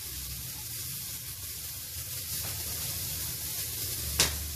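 Butter sizzles steadily in a hot pan with shredded cabbage for kebabs, a continuous close hiss and fry with a brief sharper burst near the end.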